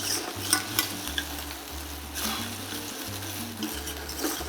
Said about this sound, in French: Dès que l'huile commence à chauffer, on va rajouter l'oignon ciselé.